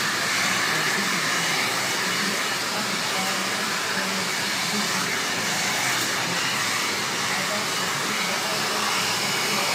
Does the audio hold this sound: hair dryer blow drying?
yes